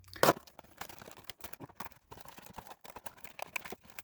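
A Marvel Legends retro Gwen Stacy blister card package being cut open: one sharp loud tearing burst, then scattered close crinkles and snips of plastic and cardboard, no voice.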